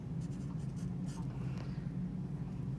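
Pen or pencil writing on a homework sheet, soft scratching strokes over a steady low hum, close and quiet.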